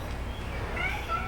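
A pet cat named Pumpkin gives a short, rising meow near the end, fairly soft against a steady room background, with a person's voice nearby.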